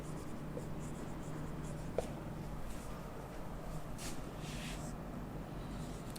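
A line of text being written by hand, with soft continuous scratching strokes and a faint tap, quiet and close.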